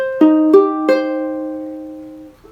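A ukulele chord fretted with the ring finger on the fifth fret of the fourth string, plucked string by string: three quick picked notes that then ring out together and slowly decay, heard alone and close.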